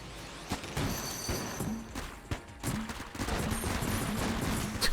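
Gunfire rattles in the video game Enter The Gungeon, with rapid bursts of shots and impacts over a steady game soundscape at moderate loudness.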